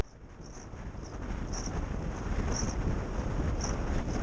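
Steady, rising rush of wind buffeting the microphone on a fast road-bike descent of Blackstone Edge at nearly 40 miles per hour, loud and continuous, with faint periodic high ticks.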